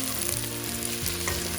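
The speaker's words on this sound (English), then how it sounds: "And just mix it well." Prawns sizzle in melted butter in a pan while being stirred, a continuous close frying crackle with faint scraping from the utensil and no voices.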